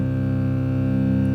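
A low drone note in the key of C rings steadily and evenly for the whole moment, a sustained, harmonically rich tone with a faint, regular pulsing.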